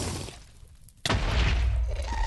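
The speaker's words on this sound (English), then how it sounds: "Being chased by a ghast." In the Minecraft Nether, a ghast fireball bursts with a sudden loud boom, followed by a rumbling roar, all heard close in the game's sound.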